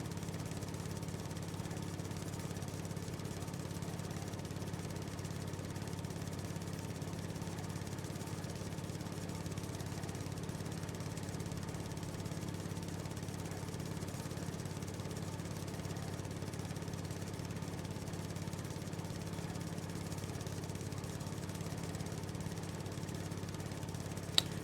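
Steady, faint drone of a mower engine in the farming video game Farming Simulator 19, a constant low hum running unbroken throughout without changes in pitch or rhythm.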